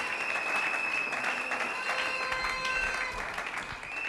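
A church congregation applauds at a French-language service, a dense, steady wash of many hands clapping together, fairly close and loud, with faint voices mixed in.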